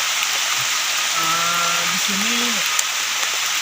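Steady rain hisses continuously in the forest around a hot spring at Km 38, Samboja, and a short rising tonal call cuts through the downpour partway in.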